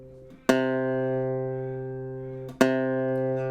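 A low plucked C string, tuned flat, rings out, then is plucked again about two seconds later, each note sustaining and slowly fading, alone and close.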